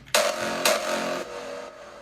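Kick drum sample in FL Studio, transposed down from G to F, plays two punchy hits with a booming tail, close and loud with no other sounds.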